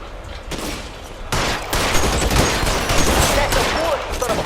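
Dense gunfire in the video game L.A. Noire, a loud sustained fusillade of rapid overlapping shots that thickens partway through and keeps roaring to the end.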